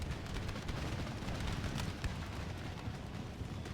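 Massed musket fire in the Empire Total War video game, a dense crackling rattle of many shots with sharper pops, steady and moderately loud across the whole stretch, no talking.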